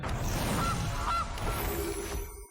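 Cartoonish goose honks from the Gilded Goose card in MTG Arena, a few short nasal calls over a dense, loud game soundtrack, ending abruptly.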